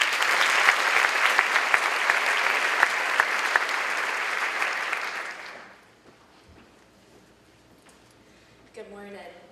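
An audience at a school district new educator orientation applauds warmly and steadily for about five seconds, then the clapping fades out and a voice begins at the podium.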